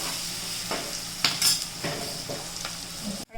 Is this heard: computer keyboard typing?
no